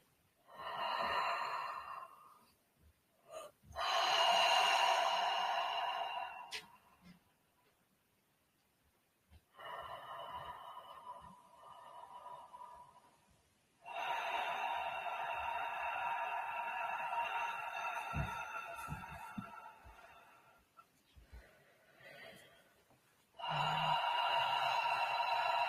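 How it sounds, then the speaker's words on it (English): Slow, deliberate breathing in and out through an open mouth during a rebirthing breathwork session, long airy breaths close up, separated by quiet pauses. "And you're breathing through the open mouth."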